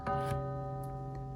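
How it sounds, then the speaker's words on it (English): A brass clock's gentle chime rings out as a steady, sustained tone that holds and slowly fades, soft and close, with no talking. "let you hear the chime for this exact clock"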